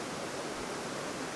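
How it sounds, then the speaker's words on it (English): A small brook flowing in a trout stream setting, giving a steady, full rushing and bubbling wash of water, close and continuous with no voices. "Pretty little brook."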